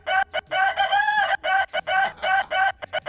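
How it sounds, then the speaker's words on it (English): Rooster crowing as a played sound effect, a loud, near cock-a-doodle-doo broken into several bursts with short gaps, with no talk over it. "Where's that chicken? Where's that rooster? There it is."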